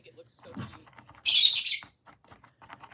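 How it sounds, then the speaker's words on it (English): Pet birds let out a loud, harsh burst of squawking lasting about half a second, with softer chirps scattered around it in an otherwise quiet indoor room. "my birds are deciding to be annoying today"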